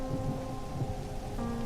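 Rain pours steadily with a low rumble of thunder rolling underneath in an animated scene, a continuous dense wash with no voices.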